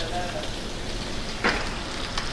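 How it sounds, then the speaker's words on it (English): Gnocchi frying in a pan in a restaurant kitchen, a steady close sizzle and crackle with one brief louder spit of fat partway through. "In another pan, just going to get our gnocchi in there."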